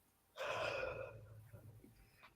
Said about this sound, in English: My little sweetheart is yawning.